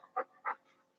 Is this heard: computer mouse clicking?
no